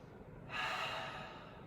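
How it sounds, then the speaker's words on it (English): A single soft breath during a gentle yoga flow, a brief airy exhale rising and fading within about a second, quiet and close. "breathing here"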